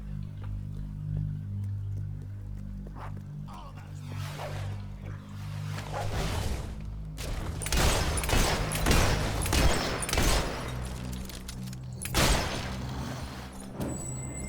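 Gunfire from a gun in Fable 3, a series of loud shots and impact bursts clustered irregularly over a steady low game soundtrack hum.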